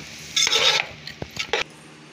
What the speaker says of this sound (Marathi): थोडा वेळ परतून घ्यायचा आपल्याला जिरा राईस